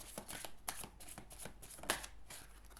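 Lenormand cards shuffled by hand at close range, a quiet run of riffling, flicking strokes with a few sharper snaps, no talking.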